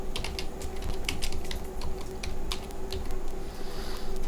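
Keys clatter in quick irregular bursts as a search is typed into a web browser on a computer keyboard, close and fairly clear over a steady low background hum.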